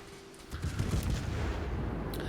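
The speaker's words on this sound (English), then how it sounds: "I got AP and I'm shooting it at the battleship" Naval gunfire in World of Warships, a Pensacola cruiser firing AP shells at a battleship: a deep booming salvo swells after half a second into a sustained rumbling roar, with a faint crackle near the end and no speech.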